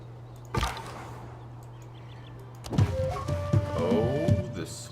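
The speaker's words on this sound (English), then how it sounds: "Oh, the sweet sounding goody hut" Goody hut discovery chime in Civilization 6, a bright rising musical flourish with layered tones building over a low steady hum, following an earlier sharp click.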